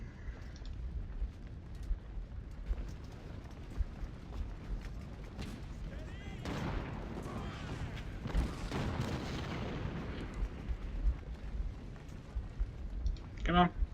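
Cannon and rifle fire in the American Civil War strategy game Ultimate General: Civil War, scattered distant booms, crackling volleys and clicking battle noise, with a voice talking over the top.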